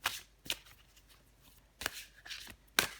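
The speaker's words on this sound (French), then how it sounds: "Je vais encore tirer une carte pour vous les vierges" Tarot cards shuffled in several quick riffling bursts with short pauses between them, crisp and close, with no talking.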